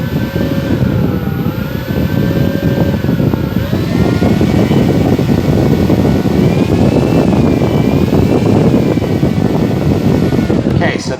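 The electric motor of an Avios PBY-5A Catalina RC model plane whirs loudly and close, holding a steady drone with slight pitch swells as throttle changes, then cutting off near the end.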